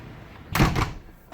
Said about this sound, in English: Turn it all the way up, and it opens up from the top and stays closed at the bottom